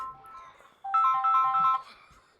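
A phone rings with an incoming call during a Company of Heroes 2 Soviet battle: a bright electronic melodic ringtone bursts in loudly, repeating its short warbling pattern for about a second over quiet game ambience, then stops.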